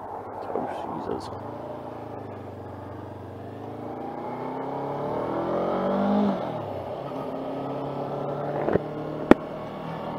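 A 2021 Honda CB500F ABS motorcycle engine starts and revs up and down a few times nearby with rising and falling engine pitch. People talk over it.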